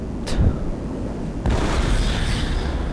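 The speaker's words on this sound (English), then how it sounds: "This is the Plasma Mortar. When locked on, it can track its target and destroy." A Strogg plasma mortar in a sci-fi shooter fires with a sharp burst, then a heavy explosion rumbles and sustains noisily amid battle ambience.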